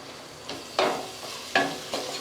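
Mutton biryani masala with coriander and mint being stirred, with three or four scraping strokes against the pot over a soft sizzle, close and moderately loud.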